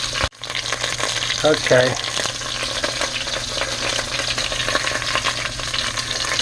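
Pig's feet browning in a pressure cooker give off a steady, close sizzle and frying crackle that runs the whole time, with occasional stirring clatter and a brief spoken word near the start.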